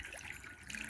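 Water pours and trickles into a trough at an animal farm, a soft, steady splashing flow heard from close by at low volume.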